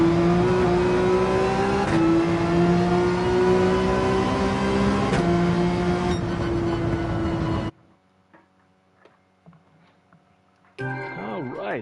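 In Gran Turismo 7, a race car engine is held at full throttle, a loud, sustained high-revving whine with brief gear-shift dips. It cuts to near silence, then returns, with speech over parts.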